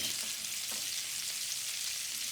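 Sirloin steak sears in butter and olive oil in a pan, giving a soft, steady sizzle with faint crackling pops, fairly quiet and uninterrupted, with no one speaking.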